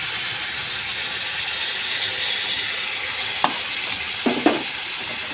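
Taro curry with tamarind water is stirred in a pan with a steady soft sizzle and hiss, broken near the end by a few sharp scraping knocks of the spoon.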